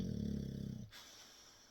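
An angry dog grumbles with a low, snoring-like growl in short pulsing breaths, close and fairly quiet, then stops abruptly partway through.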